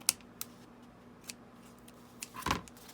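Scissors snip through paper close to a stitched thread on a Valentine's junk journal envelope, a few sparse, crisp clicks spread out over a low steady hum, ending in a slightly louder rustling cut.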